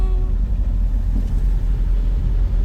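A car rolls onto the gravel surface of the Carretera Austral, its steady low engine rumble and tyre roar filling the cabin continuously, close and moderately loud with no talking.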